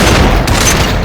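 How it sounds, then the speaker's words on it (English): Sustained automatic fire from an M60 machine gun in a video game, a dense continuous burst of rapid shots filling the whole moment at loud, steady volume with no talking. "this guy with this M60 right now is driving me insane"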